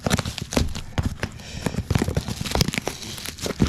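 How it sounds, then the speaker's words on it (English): Plastic bag crinkling while a package is unpacked, a dense, continuous run of crackles and crunchy rustles close up, with no voices over it. "Seems to be in a plastic bag."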